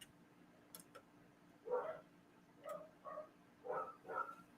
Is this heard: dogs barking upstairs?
yes